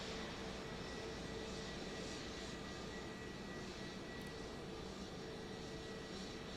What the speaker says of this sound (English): Continuing to see this plane here making that long journey across the very big tarmac there at Joint Base Andrews